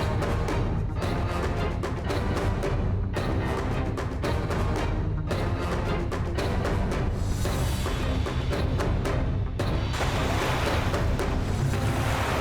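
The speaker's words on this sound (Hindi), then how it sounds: "ये है वो नीला समुद्र। कितना अद्भुत है ना।" Ocean surf on a blue sea washes in loud, dense and continuous, with heavy wind buffeting the microphone and no voices.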